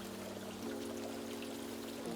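Water in a koi pond on a farm, driven by an airlift system, pours and trickles in a steady, continuous flow with a low hum beneath it, close and moderately loud, with no voices.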